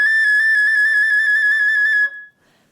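A flute plays a sustained trill on G sharp, worked with the first finger trill key, for about two seconds before stopping cleanly. The rapid, even pulsing is bright and close.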